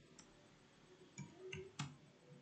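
Sparse keyboard typing on a computer, a few soft separate key clicks and taps at close range over a faint background hiss.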